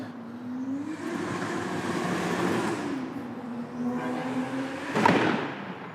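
A turbo on an R32 GT-R with an RD28/RB26 hybrid engine spinning down after a run, heard as a steady whine slowly sliding in pitch over a low engine rumble, with a sharp knock near the end.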